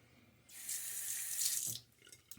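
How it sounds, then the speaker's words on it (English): Water runs from a sink tap for about a second during a wet shave, a steady close hissing stream with a little splashing as it cuts off, fairly quiet overall. "I'm going to throw a little bit more water on my face"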